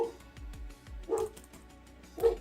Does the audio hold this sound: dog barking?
yes